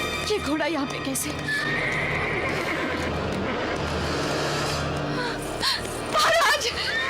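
A horse neighs and whinnies loudly several times amid clip-clopping hooves, with dramatic background music and agitated voices talking over it throughout.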